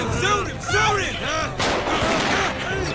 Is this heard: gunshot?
yes